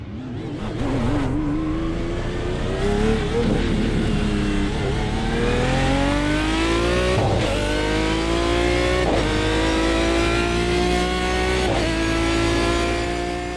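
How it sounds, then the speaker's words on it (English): An Aston Martin V12 race car in iRacing leaves the pit lane, its engine climbing loudly through the revs with repeated upshifts, each marked by a short dip before the note rises again, close and continuous with no talk. "I want you to have a quick listen to this Aston coming out the pit lane."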